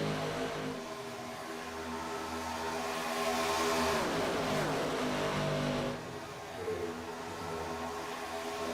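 Race cars in a racing video game roar past at high speed, a dense engine drone that swells loudly as the pack passes, then eases back while more cars follow.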